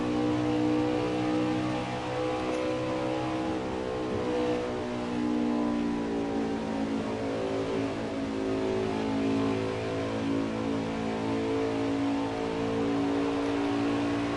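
Stock-style racing trucks in the NASCAR Heat 5 video game roar continuously at high revs, engines droning and shifting pitch as a pack battles closely, loud and steady throughout with no pauses.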